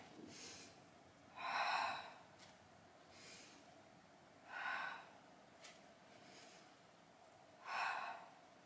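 Breathy exhales from a person doing Pilates sit-ups over a mini ball, three clear puffs spaced about three seconds apart with softer breaths between, close and fairly quiet.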